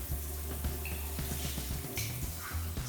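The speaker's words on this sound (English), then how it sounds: "I would sort of turn on the shower and then wash it" Shower water runs steadily in a bathroom, a close, continuous hiss and patter with small splashing shifts as surfaces are rinsed.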